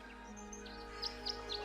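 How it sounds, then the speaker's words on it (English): Faint, chirpy tweets of game birds at a bird bath in Tangle Tower, a few short rising whistles over a steady low hum of background music. "The birds seem to like it. They're even singing a little tune."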